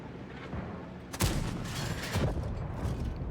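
The Ashigaru tank's main gun fires in a tank video game with a sudden loud boom, followed about a second later by a second, softer blast, over rumbling in-game background noise.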